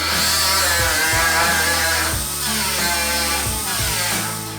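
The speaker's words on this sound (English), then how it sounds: "We've been grinding on this thing." A power grinder whines steadily on an old Ford Model A steel trunk lid, loud and close, its pitch dipping and recovering as the disc bites into the metal.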